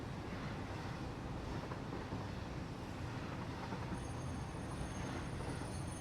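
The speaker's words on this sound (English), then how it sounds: "When I could ride the train" Steady, dense rumble of a train rolling along track in the game Satisfactory, continuous and loud with a broad wash of wheel and rail noise and a faint high whine creeping in near the end.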